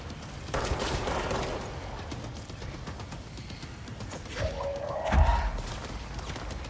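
Gunfire is aimed at the player in the video game Control, with a dense spray of shots early on and a heavier thump and crash near the end, set over a constant rumbling game soundtrack.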